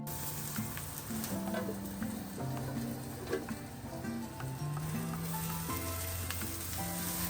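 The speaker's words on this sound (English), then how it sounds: "When the undercarriage of the patty is cooked, flip it over and give it a good basting with the yakiniku sauce." A burger patty sizzles steadily in a pan while it is basted with yakiniku sauce. The frying crackle is continuous at close range, and tonal background music plays under it.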